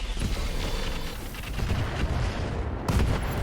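Mech rockets launching in the BattleTech game RogueTech, a dense continuous rumble of booming rocket fire and blasts with a sharp burst near the end, loud and busy throughout.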